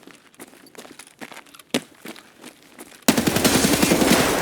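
Automatic gunfire sprays in a burst in Escape from Tarkov on Shoreline, loud and dense after scattered quieter footsteps and clatter, the rapid shots continuing to the end.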